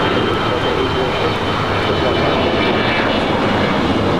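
A Delta Airbus A321 jet airliner roars on the runway at Los Angeles International Airport, a loud, continuous broadband engine rumble heard from nearby, with a faint radio voice underneath.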